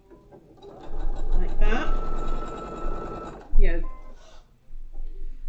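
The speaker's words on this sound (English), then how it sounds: "back it over to the sewing machine, and we're going to sew those 2 edges" A home sewing machine stitches two quilt block fabric edges together with a quarter-inch seam, a steady close mechanical whir running for a few seconds with a brief second burst after, while a person talks over it.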